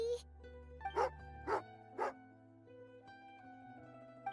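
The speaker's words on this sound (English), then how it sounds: "Oh, angry doggy." An angry dog barks in a video game, three or four sharp, close barks in quick succession over a steady game music bed.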